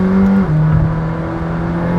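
The engine of a McLaren Senna supercar drones steadily while it drives on regular streets, a loud, close in-cabin hum with a brief dip and shift in pitch, then a steady lower tone.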